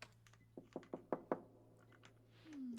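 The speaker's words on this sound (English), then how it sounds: "Stop banging on the door," A run of five firm knocks banging on a door in the horror game Becrowned, evenly spaced and moderately close over a low steady hum, followed by a rising tonal swell.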